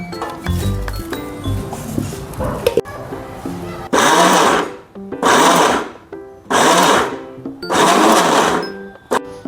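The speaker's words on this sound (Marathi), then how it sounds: "हे बघ, असं जाडसर आपण हे दळून घेतलं।" A mixer grinder coarsely grinds cumin, asafoetida, turmeric, ajwain and salt in four loud, whirring pulses of about a second each, with pauses between them, after some earlier clinking. No one speaks.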